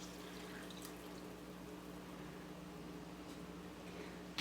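Vegetable broth poured from a container into dry quinoa, a steady soft liquid rush and trickle that runs continuously at close range, with a faint splash at the very end.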